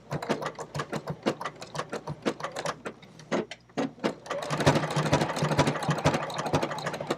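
A sewing machine stitches a blanket stitch on fabric in rapid rhythmic bursts of mechanical clatter, briefly pausing before resuming in a faster, denser run, close and clear with no talking.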